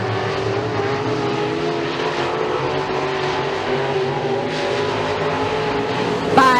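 Race cars roaring in a heat race at Raceway 7 in a 26-car field, a dense, continuous engine drone at steady loudness with a brief louder flare at the end.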